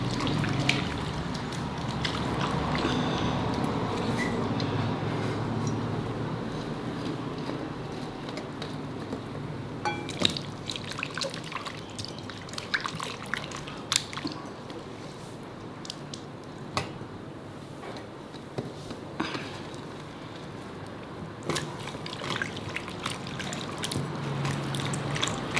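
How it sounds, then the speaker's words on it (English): Mackerel fish being washed by hand in vinegar and water, with wet squishing, sloshing and dripping sounds, intermittent sharp splashes and clicks close by, and no voices. "I will wash it in little more vinegar."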